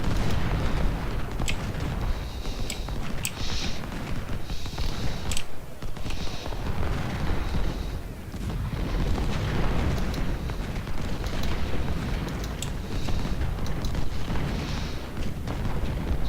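Confederate artillery in a Civil War battle game at Malvern Hill, a steady wash of rumbling booms and gunfire with sharp cracks breaking through, dense and continuous rather than isolated blasts.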